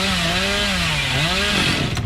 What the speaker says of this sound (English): that just goes to show that the chainsaw is a very powerful weapon